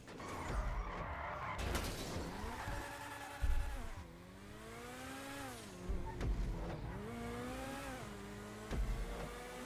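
A Vapid FMJ, a rear-wheel-drive supercar, races around a GTA test track: engine whines rise and drop through repeated gear changes, with occasional sharp thumps and tire noise, loud and alone.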